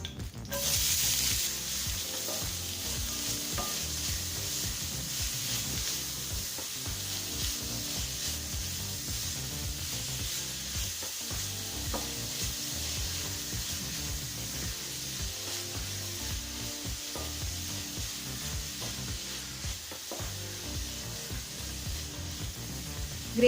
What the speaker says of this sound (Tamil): இப்போ வெங்காயம் நல்லா வதங்கிடுச்சுங்க.